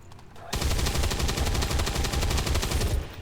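Sustained automatic gunfire from the turn-based strategy game XCOM mod Long War 2, opening with a brief quiet moment before a loud, continuous rapid burst of shots that rattles on steadily to the end.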